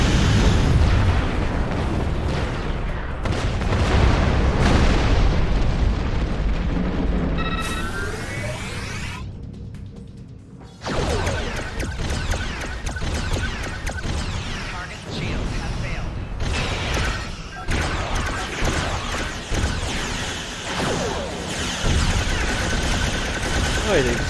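Torpedo explosions and weapons fire in Star Trek Online, played as a Romulan character, with repeated booming blasts and crackling bursts through most of the stretch, a brief lull near the middle, and a voice talking over the battle.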